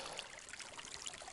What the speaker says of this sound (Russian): Ну, ручей не глубокий, ребят,